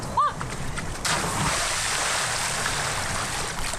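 Ocean waves breaking behind outdoor sea baths in Auckland, a steady distant wash of surf and water noise, with a brief splash and a short vocal sound near the start.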